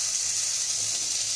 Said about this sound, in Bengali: তো চলো এবার হচ্ছে ফ্রাই করার পালা।